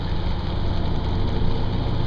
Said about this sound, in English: Do you really need that loud, filthy exhaust?